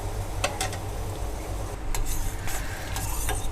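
Sugar syrup with cardamom for badusha is stirred in a pan, a utensil scraping in a few sharp strokes over a steady low background hum, with no voices.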